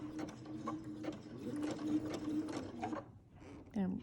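A home sewing machine stitching a fabric face mask runs in short mechanical whirring bursts with clicking gear noise, close by, pausing briefly between runs, with a voice talking over it.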